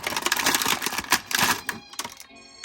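Plastic packaging bands snapping and tearing as a Masterverse Pig Head action figure is pulled free, a close burst of rapid crackling clicks and rips that thins into a few scattered ticks.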